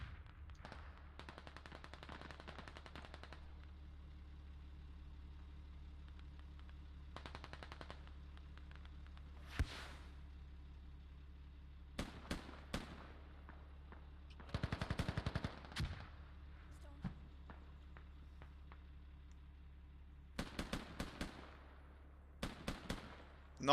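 Gunfire in the video game Squad on the Narva map: scattered bursts of automatic fire and single shots, some distant and some nearer, over a steady low engine-like drone.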